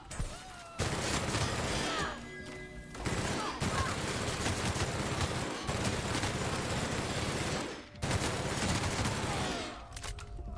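Rapid sustained bursts of gunfire from a weapon in The Outer Worlds, loud and dense, broken by a few short pauses between volleys.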